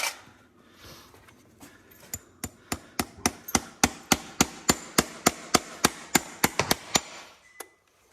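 Close, regular hammer blows driving nails into a horseshoe on a horse named Freddie during live shoeing, about twenty sharp metallic strikes in a steady rhythm, with no talking.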